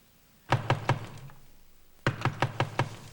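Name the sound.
loud knocking on a door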